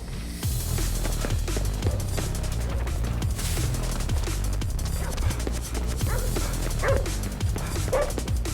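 A dog in the video game Ghostwire: Tokyo gives repeated short yips and barks, with whimpers mixed in, over a busy game soundscape throughout.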